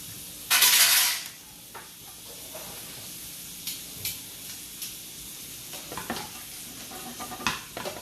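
Seafood scampi in butter gives a sudden loud sizzle as it hits the pan, then settles into a steady hiss with occasional scrapes and stirring clinks.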